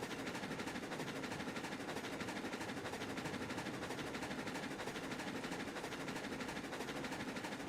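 A runaway locomotive in the Railroads Online game, a steady, dense chugging roar that runs continuously at even loudness without pause, with no voices.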